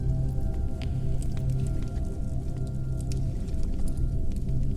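Water laps rhythmically against a river boat drifting along a flooded, winding passageway. Soft sloshing and scattered small drips continue steadily the whole time, with no voices.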